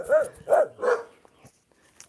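A dog gives three quick, close barks in a row, then a brief pause with faint sounds of movement, and a soft trailing yelp at the end.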